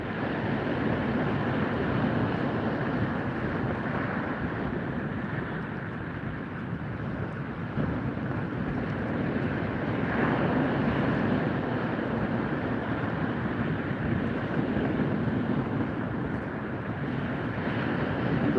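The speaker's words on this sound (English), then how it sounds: "The wind was supposed to drop, it seems to increase, not decrease." Strong outdoor wind roars steadily and unbroken at a shelter setup site, buffeting the microphone at a constant loud level with no let-up.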